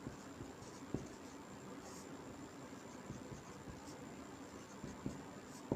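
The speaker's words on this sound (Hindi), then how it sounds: "तो इधर लिख सकते हैं हम" Notes are written on a board in a quiet classroom, with faint scratching strokes and a few sharper taps scattered over a low background hiss.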